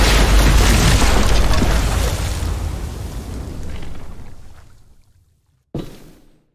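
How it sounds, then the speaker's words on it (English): A bomb explodes in The Walking Dead video game with a loud, broad boom that fades into a long rumbling decay. A brief silence follows, then a second sharp burst of impact. "Shit, the bomb!"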